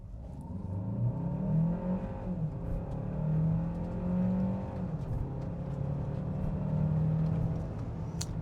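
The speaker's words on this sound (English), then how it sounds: "Brake torquing, it doesn't really help, so we'll just floor it and see what kind of acceleration number we get" A 2025 Hyundai Santa Fe Hybrid SUV accelerates at full throttle from a standstill, its engine droning and rising in pitch through several gear shifts, steady and fairly loud from inside the cabin, with no talking.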